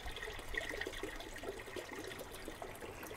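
Water poured from a watering can onto leafy vegetable seedlings in a home aquaponics system, a steady soft splashing trickle lasting throughout at low level, with no talking.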